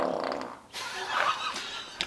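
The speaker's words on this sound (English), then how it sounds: "That was a distraught fart." A drawn-out, fart-like rasp sounds while people work on a Subaru 2.5RS EJ25 engine. It is close and fairly loud, wavering and broken for about two seconds.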